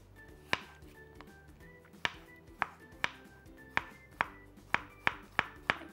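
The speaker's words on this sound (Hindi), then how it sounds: "पतले स्लाइसेस काटें ताकि जो रैप है ना उसको बंद करने में या फोल्ड करने में आसानी हो" A knife slices a cucumber into thin pieces on a board, about a dozen crisp, fairly regular chops close by and alone, with quiet gaps between strokes.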